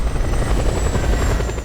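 A helicopter in the video game Just Cause 2 drones with a steady, loud rotor and engine roar that stays close and constant, without any voices.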